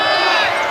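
Loud, steady roar of a college basketball arena crowd cheering at a North Florida versus Florida game, a dense wash of voices filling the whole short moment.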